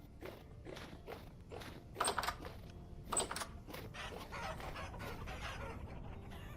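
Chickens cluck softly in the video game Vintage Story, with scattered short clucks and pecking or footstep-like taps repeating at a low, fairly faint level and no talk.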